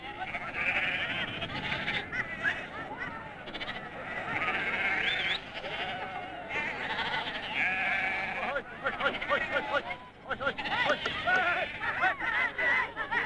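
Sheep bleat over and over in a crowded sheep fold during an Icelandic autumn round-up at Reyðarvatnsréttir in 1982, many animals loud and overlapping amid a busy background murmur of people.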